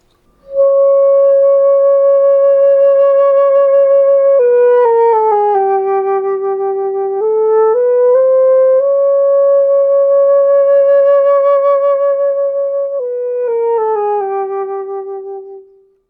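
Solo flute holding a soft C sharp in the staff, one clear sustained tone that dips and rises slightly in pitch a few times before fading out.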